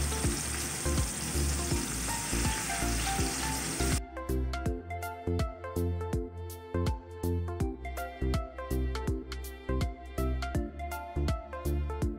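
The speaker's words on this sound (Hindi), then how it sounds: "तो हमने इस चिकन को फ्राई करना है, थोड़ा सा कलर देना है।" Chicken pieces frying in a pan for Mughlai Chicken Changezi, a steady crackling sizzle, dense at first and then broken by sharper pops and spatters as pieces settle in the hot oil, close and fairly loud with no talking.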